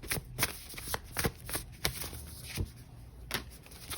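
Tarot cards shuffled by hand at close range, a quick series of crisp riffling bursts and soft slaps repeating irregularly for several seconds, with no talking.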